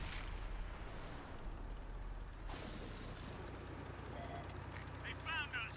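Tank gunfire in World of Tanks on Xbox One: heavy, muffled cannon booms with a big blast near the middle of the clip, set against constant rumbling battle noise.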